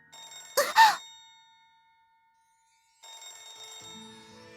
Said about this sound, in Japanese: 電話ですねこんな時間に